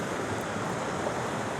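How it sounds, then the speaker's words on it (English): A freshwater stream beside an artist residency flows in a steady, broadband rush of water, close and continuous with no breaks for the whole stretch, and no voices are heard. "river here, the stream"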